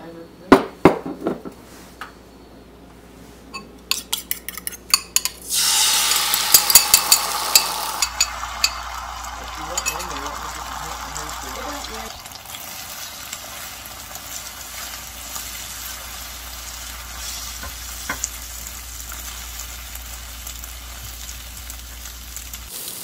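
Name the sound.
scrambling eggs in a frying pan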